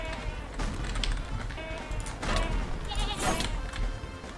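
Bleating goat boss mob from a Minecraft-style video game, repeated bleats over a busy game soundscape of effects and ambience, fairly loud throughout with no speech.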